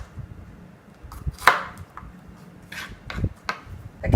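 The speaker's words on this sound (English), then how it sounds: "And then you'll just slice those up into whatever size you want your jalapenos to be." A knife slicing home-grown jalapeno peppers on a cutting board, several separate crisp cuts and knocks at uneven intervals, close and fairly clear.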